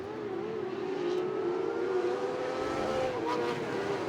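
Modified sprint cars racing at Ruapuna during a feature race, a distant droning pack of engines with a steady pitched whine heard through the background, faint and continuous.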